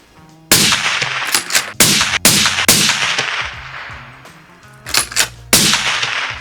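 Six loud rifle shots fired at a 100-meter range during a long-range proficiency test, each a sharp crack with a ringing tail, spaced irregularly about a second apart outdoors.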